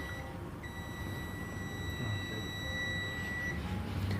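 A multimeter gives a steady continuity beep of about three seconds while its probe touches a capacitor to ground on a Samsung A23 phone board, with a faint low hum underneath and no talking.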